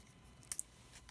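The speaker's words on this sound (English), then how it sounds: "So I'll cut this big piece in half and cut one more small little piece" Two quick, crisp scissor snips cut through a piece of heat shrink tubing, close up and isolated against a quiet background.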